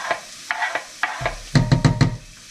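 Garlic goes into a pan where onions are already sweating, and the sizzle rises under a few scraping stirs with a spoon, loud and close with no talking.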